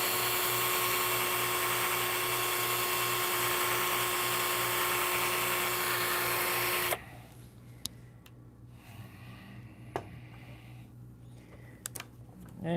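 A rotary polishing machine whines at a high, steady pitch for about seven seconds, then cuts off, leaving a quieter room with a few faint clicks and taps.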